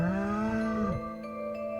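A single long, low cow moo in a Stardew Valley farm cutscene, close and clear, sliding down in pitch near the end over a steady bed of background music.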